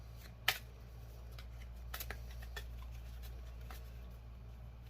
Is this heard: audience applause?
no